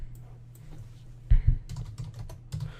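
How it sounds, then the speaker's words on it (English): Someone types on a computer keyboard in short, uneven bursts of soft clicks and taps, close and fairly quiet, with a couple of heavier key thumps in the middle. "I just remembered it while I was typing it in"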